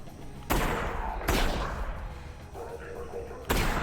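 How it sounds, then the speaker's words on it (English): Three heavy shotgun blasts in Half-Life: Alyx, spaced roughly a second or two apart, each a loud broadband boom with a short decay, while a voice speaks between shots. "Because I never shoot the shotgun, I don't know how quickly I can fire it"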